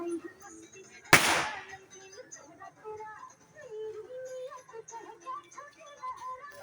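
A single sharp firecracker bang during an Eid al-Fitr celebration, loud and close, followed by a decaying crackle, with children's voices chattering and calling around it.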